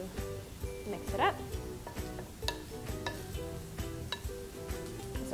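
Gluten-free turkey stuffing being stirred in a pan, with scraping utensil strokes, soft clinks and a light sizzle repeating steadily at close range under a busy, cluttered kitchen background.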